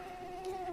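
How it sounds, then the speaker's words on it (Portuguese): A sand fly (mosquito palha) gives a short, steady, thin animated buzz, close and alone. "Olá, sou o mosquito palha, sou fêmea e gosto de sangue."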